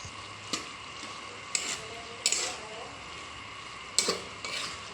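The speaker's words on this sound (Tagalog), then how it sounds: "At hahalu-haluin lang po ulit." Pork intestine adobo being stirred in a pan after soy sauce is added, with a handful of sharp metal utensil scrapes and clinks spaced a second or so apart over a soft background sizzle.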